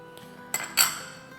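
Shredded chicken breast being stirred with ketchup and chili sauce in a bowl, two short clinks of a spoon against the bowl over quiet background, no talking.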